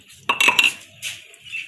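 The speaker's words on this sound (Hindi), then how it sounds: "अब की धोने लगी हूँ बर्तन।" Dishes and metal utensils clatter and clink during washing, a short close burst of rattling followed by a softer scrape, with no voices.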